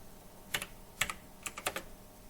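Keystrokes on a computer keyboard in short irregular bursts of several clicks each, close and fairly quiet, with no one speaking.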